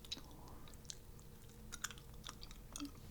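Trident gum is chewed quietly and close up, giving soft wet clicks and smacks at an irregular pace against a faint background, with no talking.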